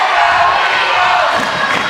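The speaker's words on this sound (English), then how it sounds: "And the Eagle fans have come alive now." Eagle basketball fans in a high school gym roar and cheer loudly in a continuous, dense crowd wash, with indistinct shouts and the thump of a bouncing ball underneath.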